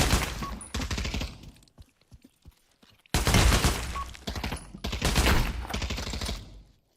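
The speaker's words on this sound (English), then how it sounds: "These guys are all shooting." Rapid bursts of automatic gunfire from several players in the VR shooter Pavlov, loud and close, with a short lull of scattered shots in between before another long, heavy barrage.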